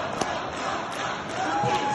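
A debate audience chanting Donald Trump's name, a dense roaring crowd heard steadily and somewhat distant through the whole short stretch.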